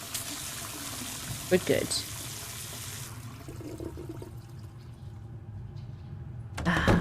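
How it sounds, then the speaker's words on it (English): Tap water runs steadily in a bathroom sink within the Penelope Pendrick video game, a continuous wash of flow with brief clatters early on, shifting texture midway, and a short spoken line near the end. "She just likes the sound of the running water."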